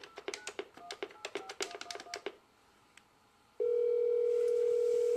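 A telephone keypad sounds a quick run of touch-tone beeps as a 770 number is dialed, followed after a brief pause by a steady, continuous dial tone.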